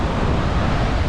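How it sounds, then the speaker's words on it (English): Waves roll onto a beach in West Trinidad, making a dense, steady wash of surf noise that stays loud and close throughout the brief moment. "this part of the beach has a little more activity, a bit more waves"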